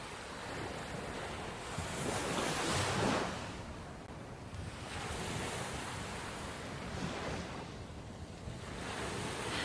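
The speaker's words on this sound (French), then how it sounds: "vagues elles recommencent à devenir un peu plus atténuées" Ocean waves surge and wash up on a beach in slow, broad swells, a steady roar with rising crests every few seconds, mixed with wind buffeting the microphone.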